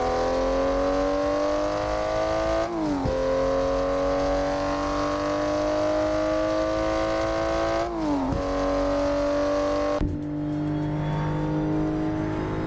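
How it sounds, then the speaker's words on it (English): A Toyota Supra MK5 engine in a racing video game revs hard and steadily through rising gear pulls, with three sharp shifts breaking the climbing whine before it settles lower, loud and continuous with no talk. "This is the car I'm driving, a Supra MK5, as you can see here on my poster."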